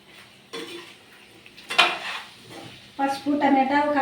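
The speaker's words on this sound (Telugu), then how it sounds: "పసుపు, టమాటా, కారం అన్నీ అయితే వేసినాం కదా, ఇంకా కలిపేసినాను." A spoon scrapes and clinks in a pan as chicken curry with turmeric, tomato and chili is stirred, bursts of stirring broken by pauses, with a sizzling, frying texture under the strokes.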